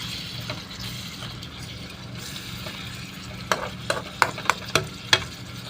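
Okra fries in hot oil in a pan with a low, steady sizzle, then a spatula scrapes and stirs in a series of about six sharp clinks near the end, close and moderately loud.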